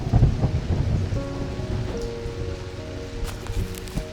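A thunderstorm from a video game plays as steady rain with low, rolling thunder rumbles, at moderate volume, with a few faint tonal game sounds over it.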